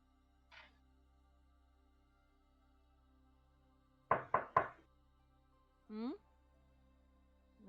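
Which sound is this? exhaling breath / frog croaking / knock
knock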